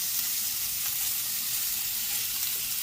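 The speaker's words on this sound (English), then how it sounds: "Beautiful browning on those beef sausages" Beef sausages sizzle steadily as they brown in a pan, a continuous close, even crackle with no talking over it.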